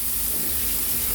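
Seasoned steak hitting hot oil in a pan, a dense, steady sizzling hiss with a faint low hum underneath, close and constant, without talking.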